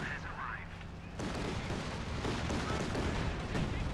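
Gunfire and heavy explosive shell fire crashing through a Company of Heroes 2 battle, where an IS-2 tank fires fragmentation shells; a brief voice opens over the din, then dense, loud rumbling blasts and shots continue without letup.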